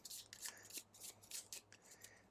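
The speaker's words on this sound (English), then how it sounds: "And shuffled it up." Gloomhaven curse cards being shuffled into a deck by hand: a faint run of quick papery riffles and soft slaps, close and quiet, with no talking.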